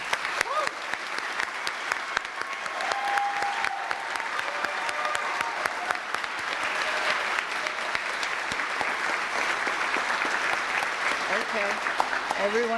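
Sustained applause from a large audience congratulating graduates at a university commencement ceremony, steady dense clapping filling the whole stretch with a few faint cheers and voices mixed in.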